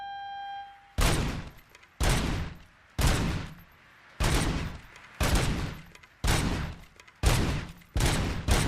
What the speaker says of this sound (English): This is reminding me of the shooting range in Resident Evil 4.